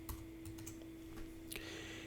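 Quick keystrokes on a computer keyboard, a short burst of close, crisp taps over a steady faint electrical hum, with no voices.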